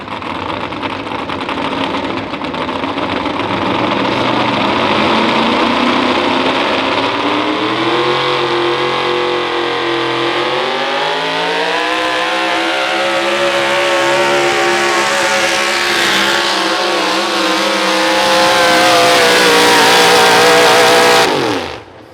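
A pulling truck's engine at a truck pull revs loud and close, a sustained roaring drone whose pitch climbs and swells before cutting off abruptly at the end.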